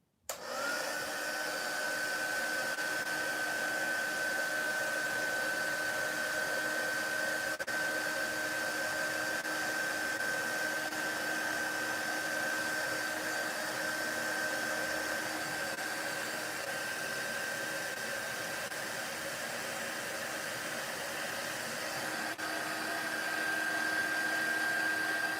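A handheld heat tool blows hot air to dry paint, a loud steady whirring drone with a high whine that starts abruptly and runs unbroken for about twenty-five seconds, close and constant with no voices.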